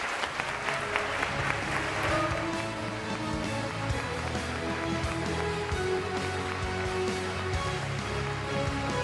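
Audience applause welcoming a speaker to the stage at NASA's live 2025 astronaut class reveal, a dense, loud, sustained clapping from a large crowd that carries through the whole stretch without fading.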